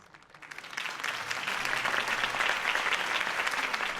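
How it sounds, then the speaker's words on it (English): A crowd applauding, the clapping swelling within the first second and holding steady and loud throughout. "could have heard that applause"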